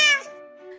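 A single high, clear meow from Rambha, a multicoloured cat, starting bright and trailing off into a soft, sustained tone, close to the listener with no talking.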